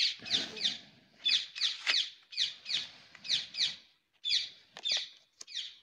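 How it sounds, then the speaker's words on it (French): Small birds chirping in a steady run of quick, high, bright calls, repeated in short clusters at a moderate distance with a quiet background. "ça fait même réagir les oiseaux"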